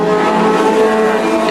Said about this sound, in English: John Buchan hanging the tail out